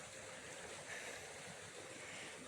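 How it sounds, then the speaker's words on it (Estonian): Water runs steadily along a stone-walled irrigation channel in a mountain garden near Órgiva, Spain, a continuous close rushing wash with no break and no voices. "Kuidas veed voolavad."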